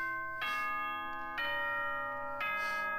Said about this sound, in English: Ding dong bing bong.